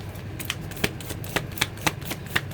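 Tarot cards riffle in a steady series of crisp, evenly spaced flicks, close and clear, over a low background hum with no talking.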